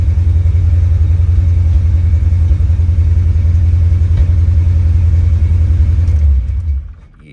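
A 1979 Chevrolet El Camino with an out-of-tune carburetor and distributor runs loud and close with a deep, steady rumbling idle as it is shifted through drive, neutral and reverse into park, then fades near the end.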